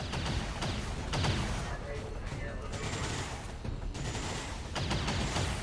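Gunfire in the video game XCOM 2 during a heavily modded facility mission, with repeated bursts of shots and crackling volleys across the whole stretch while a person talks over the noise.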